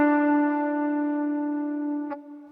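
A single electric guitar note slides down the neck, sustained and steady with a bright harmonic ring, fairly loud and alone, then a brief pick or fret noise near the end as the note settles lower.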